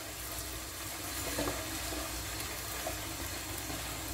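Onion fries in a pan for pulao, a steady dense sizzle with close hissing and faint crackle throughout, no voices.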